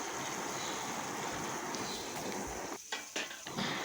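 Marinated paneer stirred gently into a frying homemade spice masala in a pan for paneer chaap, a steady soft sizzle with scraping and clinking of a spoon against the pan toward the end.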